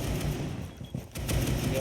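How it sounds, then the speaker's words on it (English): Dense gunfire rattles in Rainbow Six Siege, where rapid shots tear through walls in continuous bursts with a brief lull in the middle. It is loud and mixed with background chatter. "Gunfights that continue to go down back and forth, gunshots riddling through the walls."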